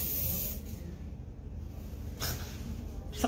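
Short hissing bursts from a spray can, three quick sprays spaced a second or more apart, close by, over a low background rumble.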